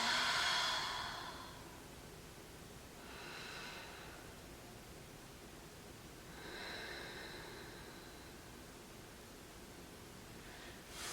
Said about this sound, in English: We're going to start off by taking some deep breaths.